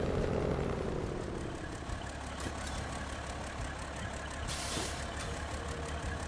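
Heavy truck engine droning steadily in the SnowRunner game, loud and continuous, with a short hissing burst partway through.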